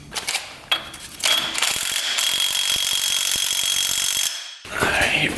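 A metal cotter pin being worked into a castle nut on a car's CV axle, heard close up as a sustained grinding, rattling metallic scrape with rapid ratchety clicks. It breaks off briefly, then a short scrape resumes.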